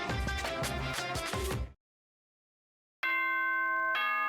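Danganronpa: Trigger Happy Havoc announcement chime, a loud sustained ringing bell tone that starts abruptly after a second of silence, following an earlier burst of music.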